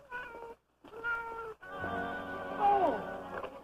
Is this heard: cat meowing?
yes